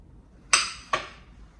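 Knife chopping zucchini squash on a cutting board, two sharp distinct knocks about half a second apart in an otherwise quiet kitchen.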